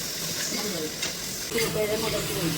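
Chopped tomatoes with salt fry in a pan, giving a steady sizzling hiss with soft stirring scrapes. A voice talks quietly in the background near the end.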